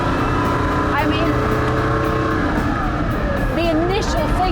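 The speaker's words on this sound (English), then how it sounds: "the initial thing is that noise of the engine. It's such a famous engine, that Colombo V12 front engine" A Ferrari 250 SWB Revival with a front-mounted Colombo V12 drives along under way, its engine drone steady and loud throughout, with someone talking over it and faint whining, wavering tones above.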